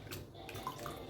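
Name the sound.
pouring dissolved tamarind water into rasam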